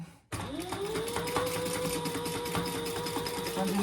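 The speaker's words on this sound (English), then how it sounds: "I'm just really basting the sides." A sewing machine bastes the sides of a laptop bag, running steadily at close range with a rapid, even mechanical whir after a brief quiet start.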